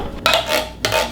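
A metal spoon clatters against dishes and cutlery while being pulled out to stir thick dump cake batter with jam, two short rattling bursts close by with no talking.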